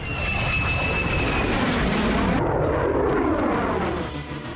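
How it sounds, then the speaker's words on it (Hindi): US Air Force fighter jets roar overhead in a loud, continuous engine rush that swells and then fades as they pass, with no voices. "अमेरिकी वायुसेना के फाइटर जेट लगातार सॉर्टीज ले रहे हैं"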